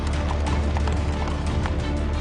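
Presidential horses of Rashtrapati Bhavan in India rehearse, their hooves clip-clopping in an irregular patter under dense, steady outdoor noise and rumble.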